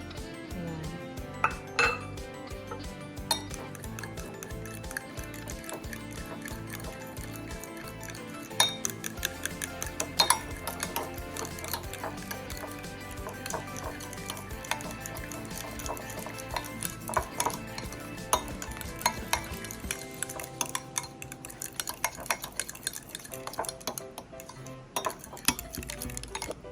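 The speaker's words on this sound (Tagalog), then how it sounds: "Haluin lang natin mga boss hanggang sa mag-mix na silang lahat" A utensil scrapes and clinks against a pan as tofu sisig ingredients are stirred, with irregular taps and scrapes running continuously at a moderate, close level for nearly half a minute.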